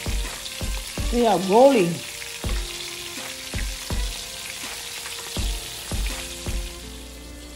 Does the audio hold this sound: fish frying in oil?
yes